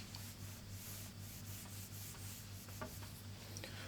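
A classroom board being rubbed clean, a steady scratchy scrubbing with soft rhythmic strokes over a constant low electrical hum, faint and without talk.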